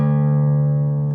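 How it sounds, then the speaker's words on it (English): A low open D on a guitar's sixth string rings out as a single sustained note in a fingerstyle arrangement, steady and fairly loud, with a rich stack of overtones that slowly fade over about a second. "the low D note on the open sixth string."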